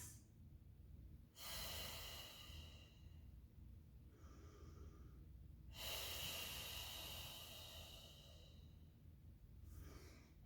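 Slow, deep breaths during a yoga quad stretch, with long airy inhales and exhales in separate swells several seconds apart, close and quiet.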